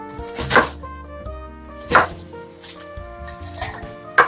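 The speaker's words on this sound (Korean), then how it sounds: "약간의 깍둑 썰기" Knife dicing food into small cubes on a cutting board for a homemade jjajangmyeon, with several sharp chopping strikes in a loose rhythm over quiet music, close and fairly loud.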